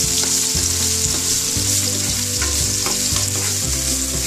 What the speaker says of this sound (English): we have to saute this until it's like translucent